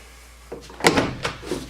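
A door swings and thuds shut on a resistance band door adapter wrapped around it, giving a rattling close with a couple of follow-up knocks, heard near and alone.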